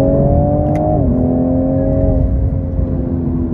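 A 2022 Toyota Supra GR with its twin-turbo straight-six accelerates hard in third and fourth gear, a loud, steady engine drone that holds its pitch, dips briefly at a shift, then keeps pulling.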